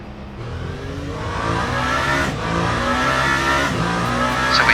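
Race car engine in Le Mans Ultimate revving hard as the car is released from the pit and accelerates away, a loud, steady rising drone that builds in strength over several seconds with no talk.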